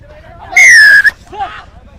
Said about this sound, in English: And we heard that whistle for the first time after 3 minutes